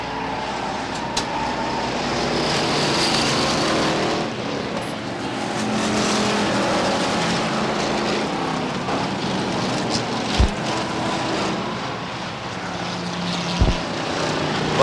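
Stock cars racing around Beech Ridge Motor Speedway, a steady roar of several engines circling the track at a distance, with a few sharp thumps.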